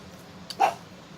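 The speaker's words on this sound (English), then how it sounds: "Yeah, my little guard dog" A small pet dog named Molly gives a single short, sharp bark at moderate distance, with quiet room tone around it.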